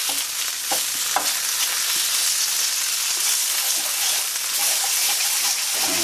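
Spare ribs fry in a hot pan as they are stirred and turned for char, giving a loud, steady sizzle with scraping clicks, with no talking.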